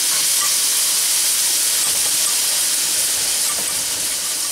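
Liquid poured into a hot roux on the stove sizzles loudly as a steady, bright, dense hiss, fading only a little toward the end.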